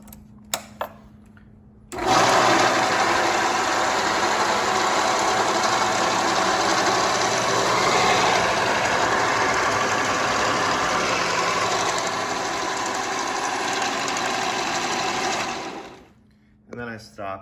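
A motorized lift carrying two monitors whirs steadily as it lowers, a loud continuous mechanical drone lasting about fourteen seconds before a switch click cuts it off.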